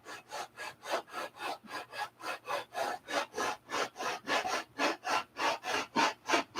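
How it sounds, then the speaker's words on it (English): Sandpaper rubbed by hand over wood in steady back-and-forth strokes, about twenty even rasping passes close up, with no talking. "But most importantly, sandpaper"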